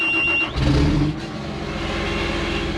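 A John Deere 850J dozer engine cranks briefly, then catches with a loud low rumble and settles into a steady, close idle.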